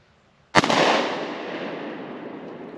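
A single sharp gunshot from an Altor 9mm handgun fired at a wall cracks out after near silence, then a long echoing decay rolls away for about two seconds.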